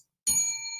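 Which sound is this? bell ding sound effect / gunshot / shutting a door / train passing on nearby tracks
bell ding sound effect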